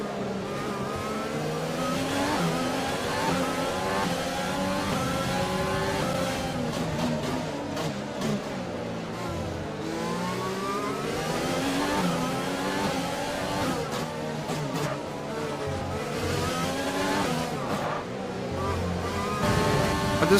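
F1 race car engines in F1 2020 video game, a continuous high revving scream rising and falling through gear changes over twenty seconds, with other cars close by and talking over it.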